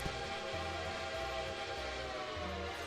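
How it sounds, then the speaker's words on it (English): Strasburg steam locomotive whistle in the Railroader train game, a steady sustained whistle tone held loud for the whole stretch, with a repeating low chuffing pulse underneath. "Oh, wait, that's Strasburg's whistle."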